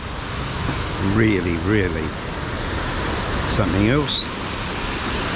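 Water pours steadily at a wishing well at night, a broad constant rush under a voice speaking briefly.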